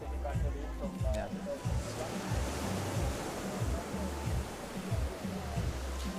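Small waves lap and churn in open water during a junior women's 7.5 km swimming race, a steady broadband wash with rhythmic low surges running continuously under commentary.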